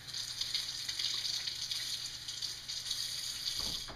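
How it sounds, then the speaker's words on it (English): Water running and splashing over a pocket knife and sharpening stone, a steady hissing gush with faint dripping near the end. "I wet both the knife and the stone."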